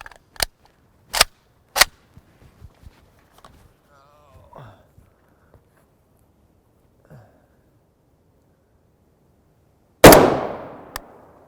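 A 16-inch rifle fires 7.62x39mm Belom 123-grain FMJ brass-case rounds: three sharp, loud shots in quick succession, a stretch of faint rustling and footsteps, then one final loud crack with a long decaying echo.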